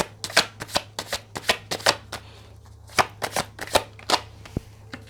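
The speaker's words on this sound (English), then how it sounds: "So let's pull some cards on these, okay?" Tarot cards being shuffled by hand, a rapid run of crisp riffling bursts and soft slaps in irregular rhythm, close and clear with a faint steady hum beneath.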